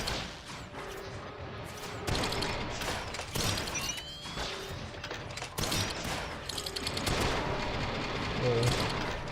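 Rapid gunfire bursts in the video game Radio the Universe, repeated clusters of shots and thuds over a busy electronic background, fairly loud and continuous.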